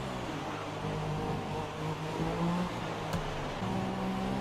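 A Mercedes-engined Formula One car from the F1 2017 racing game drones with a steady engine whine, pitch rising as it accelerates, heard continuously at moderate volume.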